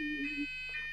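An electronic alarm sounds during a church service, its steady high tones over a low hum surging twice within a second, moderately faint.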